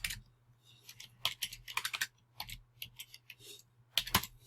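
Rapid bursts of computer keyboard typing, irregular clicks and short runs of keystrokes close up, with a steady low hum underneath and no talking.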